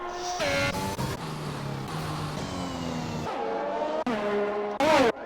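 An F1 2021 race car in a video game locks up and drifts, its engine whine stepping down through rapid downshifts, with harsh, near tire squeal and short bursts of revving.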